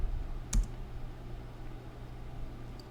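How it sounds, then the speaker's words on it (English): Keys on a computer keyboard clicking in a couple of short, sharp taps with a quiet, steady room hum between them, close and alone without any talk. "Boom, I can type words."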